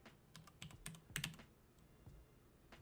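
Quiet clacking of keys on a computer keyboard, an irregular burst of taps and presses with a short pause before a few last strokes.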